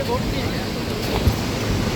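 A fast, strong river current in the Lachung valley of Sikkim rushes over large stones, giving a steady, loud broadband roar that runs throughout with no pauses.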